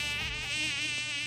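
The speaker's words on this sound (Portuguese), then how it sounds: "Ah, esse zumbido" A mosquito buzzes close by, a thin, high, wavering whine that rises and falls in pitch continuously, faint but alone.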